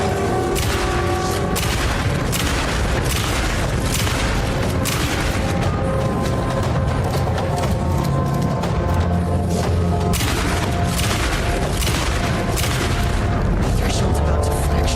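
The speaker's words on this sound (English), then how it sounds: "start putting some shotgun shells into this lady" Repeated shotgun blasts fire in the Alan Wake 2 Lake House DLC, loud booming reports with dense game sound beneath and a voice talking over the action throughout.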